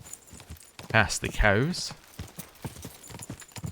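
Horse hooves clip-clop along a path in Kingdom Come: Deliverance II, steady and rhythmic at moderate distance beneath someone talking.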